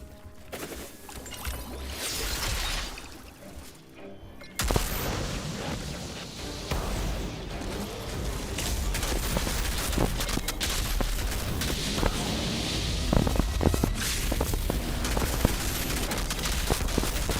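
Rapid automatic gunfire from the Sunfall weapon in Outriders, a loud continuous stream of shots with battle noise, starting abruptly after a brief quieter lead-in and running steadily to the end.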